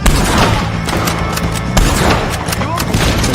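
Gunfire in the Red Dead Redemption II video game, a dense fusillade of booming shots and thuds with overlapping echoes, loud and continuous over a short stretch, with voices mixed in.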